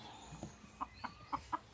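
A chicken clucks in a quick series of four or five short, bright, evenly spaced clucks, faint and close, with no one speaking.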